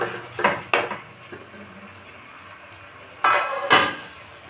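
Marinated chicken coated in yogurt goes into a metal cooking pan, giving sharp clanks and scrapes of metal on metal in a few separate bursts, with quieter gaps between them.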